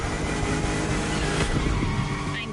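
A car drifting in the racing game The Crew Motorfest, its engine roaring loud and steady as the tires squeal continuously through a short slide.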